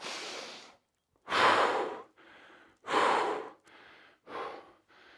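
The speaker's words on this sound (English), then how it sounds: "Big breath in. It might hurt. 2 big breaths out, but you'll quickly recover." Heavy, labored breathing after an intense bootcamp workout: a series of loud, close gasping inhales and exhales in an uneven rhythm, some longer and harsher than others, with brief pauses between.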